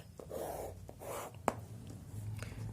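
Chalk or marker writes on a board in a teaching room, a few short scratchy strokes and a sharp tap, close and moderately quiet with a low background hum.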